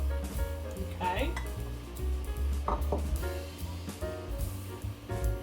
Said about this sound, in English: go ahead and kind of stir this up a little bit because that butter was warm